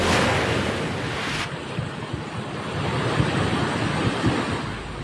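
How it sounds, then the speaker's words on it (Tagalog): Floodwater from an overflowing river rushing across a road in Maitum, Sarangani, a loud continuous roaring wash with heavy wind buffeting the microphone throughout. "Rumagasa ang baha sa kalsadang yan sa Maitong Sarangani matapos umapaw ang isang ilog sa barangay New La Union"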